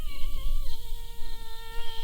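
A bee buzzes near pumpkin blossoms in a garden, a steady close-up drone that dips in pitch briefly before settling into an even hum, with no voices.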